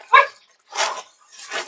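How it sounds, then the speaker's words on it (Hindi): Dogs guarding a hillside hermitage bark in three short, sharp bursts, close and loud, separated by brief pauses. "तो आप लोग देख पा रहे हैं कि यहाँ कुत्ते रखवाली करते हैं"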